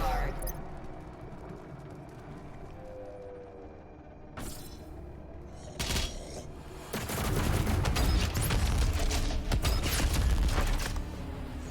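Doom Eternal combat with rocket launcher fire: a couple of sharp blasts around the middle, then a loud sustained barrage of explosions and gunfire with mechanical clanks, under a dense game soundscape.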